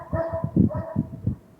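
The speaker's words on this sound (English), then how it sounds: "Our dog just realized there's people in the driveway and doesn't know who we are." A dog barks in a quick run of several short, fairly close barks at people in a driveway, with a slight whine between them.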